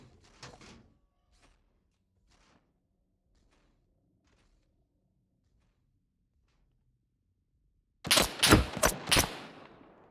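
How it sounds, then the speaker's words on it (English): Automatic gunfire from a weapon fired at walls in SCUM, a loud burst of four or five rapid shots near the end, after a few faint earlier sounds and a long quiet stretch. "Why are you shooting at the walls?"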